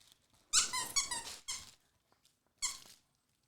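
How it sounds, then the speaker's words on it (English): A purple, sparkly squeaky toy foot squeaks loudly in several bursts: two long, wheezy squeezes in quick succession, a short one, then another after a pause. "Do you hear the squeaking?"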